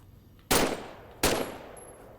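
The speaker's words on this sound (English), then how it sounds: "why don't you test fire your weapon?" Two sharp, loud gunshots from a video-game weapon being test-fired, spaced under a second apart and each trailing off into a short echo.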